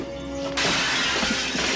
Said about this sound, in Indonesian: hingga Ned memecahkan kaca jendela